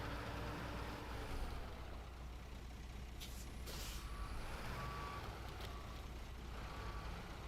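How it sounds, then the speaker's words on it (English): Heavy truck reversing in a log yard in SnowRunner, evenly spaced backup beeps over a steady low diesel drone, with short bursts of air brake hiss partway through. "It's going to take 20 gallons of fuel just to get this thing turned around in the frickin' log yard."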